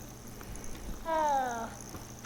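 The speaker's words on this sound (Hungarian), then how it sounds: "Hopp, egy cica." A cat in the video game Hogwarts Legacy lets out one quiet, drawn-out meow partway through, over a low hum of game ambience.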